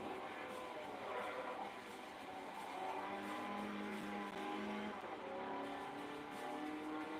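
A racing car in Forza Motorsport 4 drives with a continuous revving engine whine that rises and falls, with hints of tire noise, fairly quiet and unbroken for several seconds.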